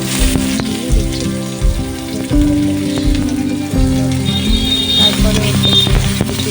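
Bay leaf and black cumin fry in hot oil in a pan with a loud, steady sizzle, stirred now and then, while a voice talks over the cooking.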